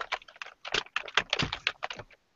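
Rapid typing on a computer keyboard, close and crisp, with clustered key clicks in uneven bursts and brief pauses, ending in silence.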